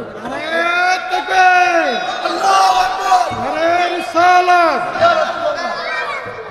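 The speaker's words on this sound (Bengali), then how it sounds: "তাকবীর দাও জোরে" A crowd at an Islamic sermon (waz) shouts the takbir chant loudly in unison, repeated swelling calls of many voices that rise and fall in rhythmic waves, close and sustained throughout.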